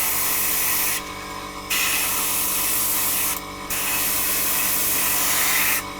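An airbrush sprays primer at 1.5 bar onto a T-34/85 scale model, giving a loud, steady close-up hiss in three long bursts, each broken by a brief pause.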